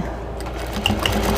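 A sewing machine basting a fabric chicken-neck pattern piece with a wattle for a drying mat chicken basket runs in a steady, close mechanical whir with faint clicks, alone without talk.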